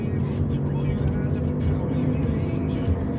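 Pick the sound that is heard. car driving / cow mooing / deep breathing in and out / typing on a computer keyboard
car driving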